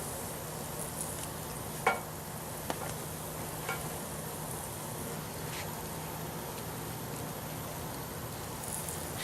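Ground pork sizzles and crackles steadily as it browns in a pan over an off-grid cooking setup, a soft continuous fry with a few sharp clicks and taps from stirring.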